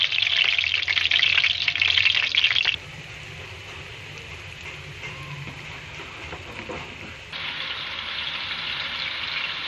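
Onions frying in ghee in a pan, a steady bright sizzle that runs loud and close, drops back to a softer crackle partway through, then rises again.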